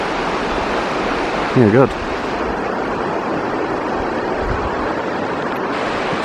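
Broadband rushing of river water flowing steadily through Otago high country, a continuous near wash that fills the whole stretch, with a short spoken exchange briefly over it.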